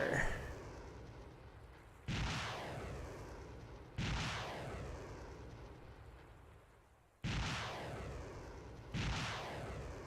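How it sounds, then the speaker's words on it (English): Artillery barrage in the video game Warlords Redux: four heavy booming blasts about two seconds apart, each with a long rumbling decay, loud and close with no talking. "I did a full barrage"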